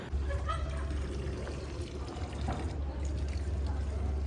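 Water pours steadily from a public drinking-water refill fountain in Zurich's Old Town, a continuous splashing flow amid outdoor street ambience with a low hum, as people talk nearby.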